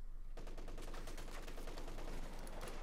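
An MG 34 machine gun in Company of Heroes 2 fires long sustained bursts, rapid loud cracks rattling almost continuously after a brief pause, dense and close.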